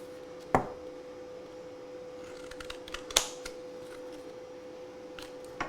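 Scissors snip through craft material at a table in a few sharp, separate cuts, with small handling clicks between them and no talking.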